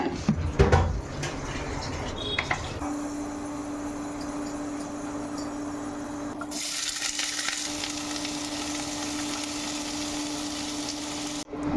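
Chopped vegetables (tomato, carrot, capsicum, corn and onion) sautéing in a hot pan in a home kitchen: a steady loud sizzle with a few stirring scrapes at the start, continuing alone without talk.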